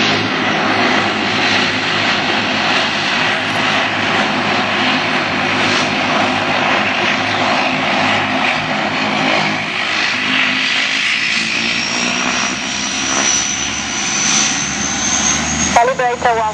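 A fixed-wing Airnostre airliner takes off from runway 12 with a sustained, loud engine roar and broadband rush that builds and rises in pitch as it accelerates, steady throughout.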